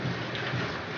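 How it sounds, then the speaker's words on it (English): Heavy rain pours constantly, a dense, steady hiss with a low rumbling undertone that holds evenly from start to finish, with no voices. "there's heavy rain. It's just pouring constantly."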